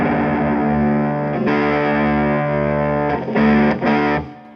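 A sustained electric guitar note on the low E string with a bright, Telecaster-like tone and a distorted edge rings steadily for several seconds. A few fresh re-picks come near the end before it cuts off. No one speaks.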